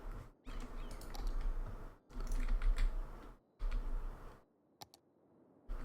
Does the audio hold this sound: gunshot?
no